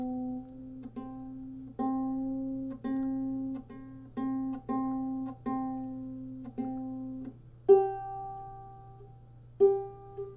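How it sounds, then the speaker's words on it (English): Ukulele C string plucked over and over while being retuned, a run of short picked notes whose pitch shifts, ending with two louder, longer ringing plucks at a new pitch; close, with a faint steady hum underneath. "I'm having some trouble with that C string. Let me fix that for you"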